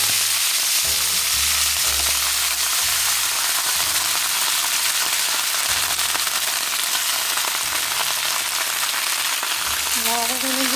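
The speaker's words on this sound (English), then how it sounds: "After about a minute of sauteing, we're just going to go ahead and start adding in" Spinach sautéing in a pan with butter and garlic, a loud, continuous sizzle and crackle with occasional stirring thumps underneath, steady throughout.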